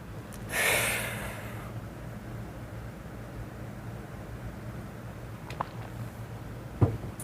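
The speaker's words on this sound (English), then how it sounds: "Let me just have a breath for a moment" A single deep breath drawn in quietly and close, a soft airy rush lasting about a second, followed by near silence with a faint low hum and a couple of small clicks.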